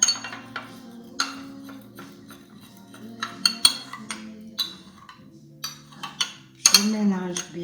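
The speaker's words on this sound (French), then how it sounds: "Je mélange bien." Stirring ingredients in a dish: a utensil repeatedly clinks and scrapes against the bowl in irregular, close taps and knocks, with a brief voice heard between them.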